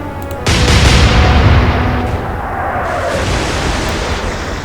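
Naval gunfire in the Atlantic Fleet video game: a sudden heavy boom bursts in after a brief quiet moment, then a long, dense rumbling roar that stays loud and only slowly fades.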